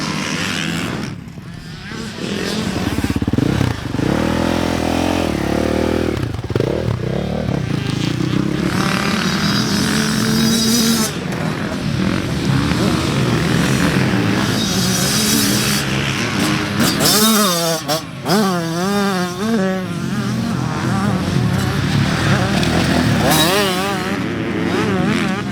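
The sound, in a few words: Yamaha YZ85 two-stroke dirt bike riding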